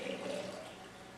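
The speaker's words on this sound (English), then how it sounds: "now we're gonna go ahead and simply pour this in" Fresh juice from a slow juicer pours in a brief, steady liquid stream, close and continuous for about a second.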